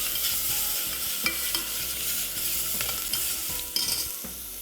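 Chilies and chopped celery frying in a pan with a continuous close sizzle, stirred now and then, with a few sharp scrapes and clicks from the utensil. No one speaks.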